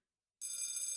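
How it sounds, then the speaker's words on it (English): Intercom bells ringing in a hospital ICU, a bright, steady electronic ring that starts abruptly and continues without pause, fairly faint and with no voices. "Every damned bell on the intercom rang out like crazy."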